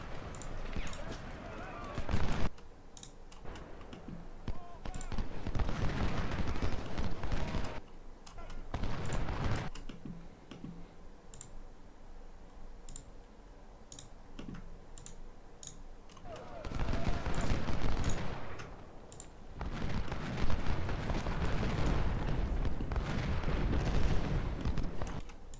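Massed musket volleys and booming artillery from the Civil War strategy game Ultimate General: Civil War at the Battle of Fredericksburg rumble in long continuous waves, with a voice talking intermittently over the battle noise.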